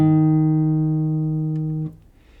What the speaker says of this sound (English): To play D sharp, you hold down the 4th string on the 1st fret.